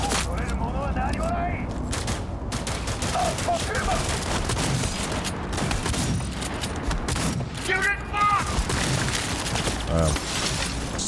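Enemy gunfire in the video game Cyberpunk 2077, with rapid bursts of shots and impacts crackling continuously, mixed with game effects and a voice talking over the fighting.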